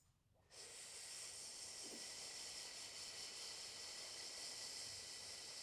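A steady, breathy hiss of a slow yoga exhalation runs close and unbroken for several seconds after a brief quiet start, with no talking.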